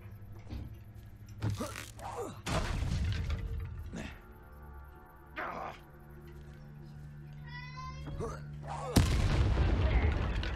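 Barrels exploding in Hogwarts Legacy, heard as several sharp, loud booms scattered through gameplay, with a heavy, sustained blast near the end amid creaks and other game effects.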